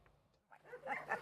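Dogs at an animal sanctuary in Tangier giving a few faint, brief yips and whimpering barks, soft and somewhat distant, in a short burst.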